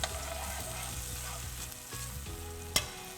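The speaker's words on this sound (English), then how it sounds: "since this is a risotto, we're happy to keep just kind of stirring it, keep it moving" Purple rice risotto with mushroom broth sizzles steadily in a pan while being stirred, a dense continuous frying hiss with faint scraping movement and one sharp clink near the end, no voices.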